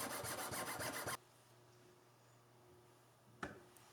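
A rasp files a violin nut in fast, even scraping strokes for about a second, then stops; a single sharp knock follows in near silence.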